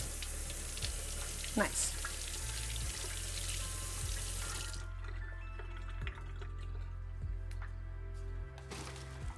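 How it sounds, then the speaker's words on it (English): Tap water runs steadily while a knife is rinsed at a kitchen sink, a broad hiss that cuts off partway, leaving a quieter room with faint clinks and a brief word. "I'm just going to also rinse off my knife in the meantime and dry it off."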